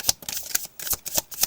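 A deck of tarot cards being shuffled by hand in a series of quick, uneven bursts of crisp card slaps and riffles, close and clear, with no talking.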